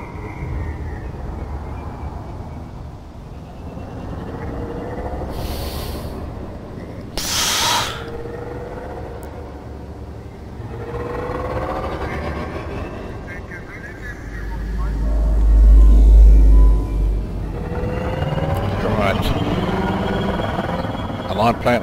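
Viper spaceship engines in Elite: Dangerous starting up and running, a low, steady rumble with rising whine, swelling louder partway through, with brief synthetic chimes and a voice talking at points.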